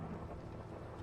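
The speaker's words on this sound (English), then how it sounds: "Oh, you can hear the thunder." Low rumbling thunder rolls through a Minecraft game world, a faint continuous distant roar with no other sounds over it.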